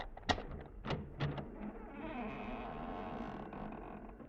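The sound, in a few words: front door hinge squeaking as it opens, radio drama effect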